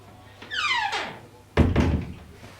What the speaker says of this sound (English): Close the door after you, please.